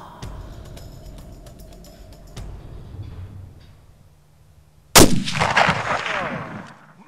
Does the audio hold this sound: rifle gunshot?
yes